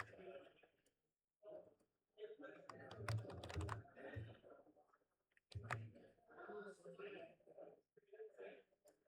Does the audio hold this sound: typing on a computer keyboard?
yes